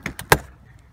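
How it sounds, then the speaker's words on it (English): A smoker door swings shut after trays of deer jerky are loaded. Two light knocks come first, then one solid, close thud, and quiet follows. "So I'm gonna shut the door."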